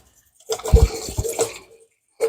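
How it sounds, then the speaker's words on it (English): Water runs from a kitchen sink tap as hands are washed, a splashing gush starting abruptly, continuing about a second with rinsing splashes, then stopping before briefly resuming. "Let me wash my hands."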